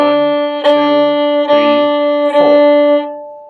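A violin bows its open D string in slow, even quarter notes, three distinct strokes with a steady ringing pitch that sustains between bow changes, close and clear with no talking.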